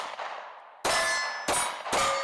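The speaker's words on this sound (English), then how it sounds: "It's a 4-inch gong essentially." Three sharp metallic clangs ring out from a 4-inch steel gong target struck by gunshots at an outdoor shooting range during a run-and-gun course, each loud impact leaving a bright ringing tone that decays before the next hit.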